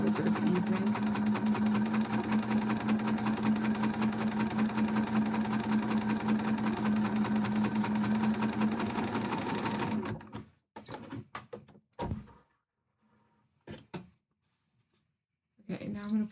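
A sewing machine stitching a piece of a Link cosplay costume runs in a fast, steady whir for about ten seconds, then stops, leaving a few scattered handling knocks.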